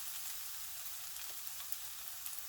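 Mushrooms and chicken browning in an old frying pan give a steady, close sizzle with faint crackles throughout, and no voices.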